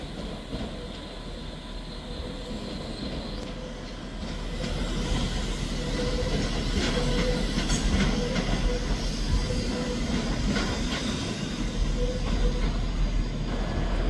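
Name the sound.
Class 397 train at Edinburgh Waverley station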